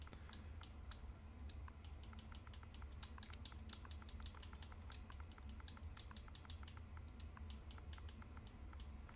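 Rapid typing on a computer keyboard, a quick, uneven stream of light key clicks close to the microphone, continuing without pause and without voices.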